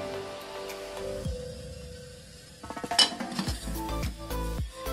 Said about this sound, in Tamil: இப்போ இட்லி குண்டால வச்சிடலாம்